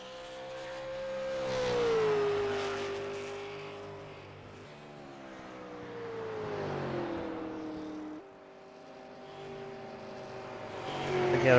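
A stock race car on a night qualifying lap at ISM Raceway roars through the corners at mid distance, the engine note swelling and easing as the driver gets back on the throttle, then surging again near the end.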